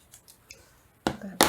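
Scissors fussy cutting fabric around a printed picture, two crisp close snips near the end after a few faint soft clicks.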